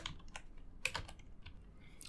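Soft, quiet keystrokes on a computer keyboard tap out an irregular string of clicks over a faint background hiss, with no speech.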